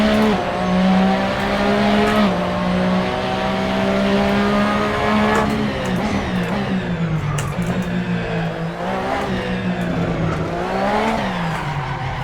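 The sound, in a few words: race car driving with tire squeal in video game Assetto Corsa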